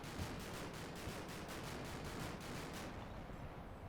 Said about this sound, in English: a bit of fire going in at that corner position up there